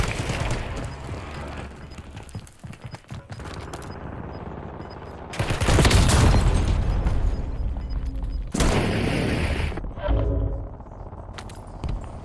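Explosions from an incoming fire support strike in a video game: heavy, booming blasts with rattling gunfire, swelling into two loud, dense bursts after a stretch of scattered shots.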